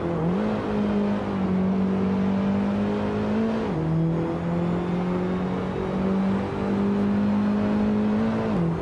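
Race car engine of a 2004 Nissan 350Z GT300 in a racing video game, a loud, steady droning whine that holds its pitch, with brief drops at each gear change.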